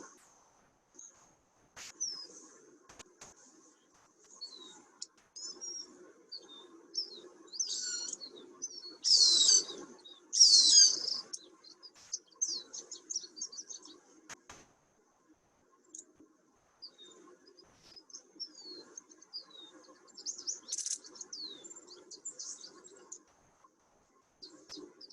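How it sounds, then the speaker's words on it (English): A juvenile Cooper's hawk calls repeatedly in a marshland, with shrill high bursts clustering in the middle and recurring near the end, against a backdrop of other faint bird chirps. "It's a young juvenile Cooper hawk calling for his mom, just hoping mom will bring him something to eat."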